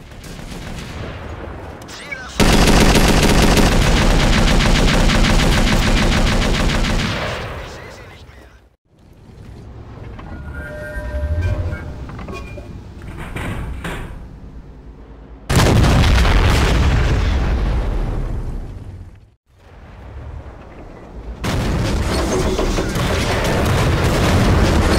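Loud bursts of video game gunfire from modded weapon sounds, with dense sustained volleys, booming blasts and a quieter stretch of scattered shots and effects between them.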